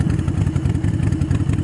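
A motorcycle engine keeps running with a fast, steady throb and some mechanical clatter while the rider pulls the clutch in and brakes, loud and close.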